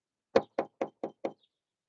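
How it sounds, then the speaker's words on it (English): Five sharp knocks in a steady, even rhythm, close and fairly loud, each a short thud with a crisp edge, ending in silence. "I might have to knock a little louder"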